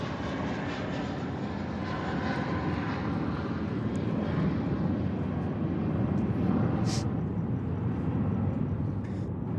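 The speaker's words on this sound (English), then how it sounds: "we got another 321 that's just airborne off runway" An Airbus A321 jet climbs away from the runway at Sydney Airport at night, its engines giving a steady, broad roar that holds strong for the whole stretch without a break.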